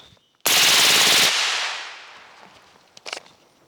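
A B&T APC 9mm submachine gun fires one loud, close burst of rapid automatic shots, followed by a long echoing decay and a few faint clicks of handling.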